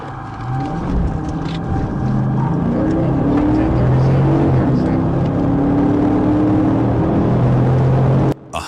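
A car's engine roars and revs steadily as the driver speeds away from a police traffic stop, loud and continuous, with shifting engine tones and possible faint voices, ending in an abrupt cut.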